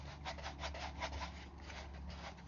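Rough scraping rub of old material being worked off a BMW E46 M3 convertible hardtop C-pillar, repeated back-and-forth strokes, faint and close.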